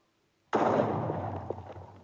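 A modded C4 explosive in the Minecraft video game detonates after a brief silence: one sudden loud blast that decays into a long rumbling roar with a few crackles.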